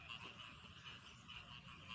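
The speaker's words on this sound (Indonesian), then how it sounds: "ini yang namanya katak sawah atau bancet ya" Rice field frogs (bancet) croak in a dense, continuous outdoor chorus, soft and somewhat distant, a steady rattling texture without voices.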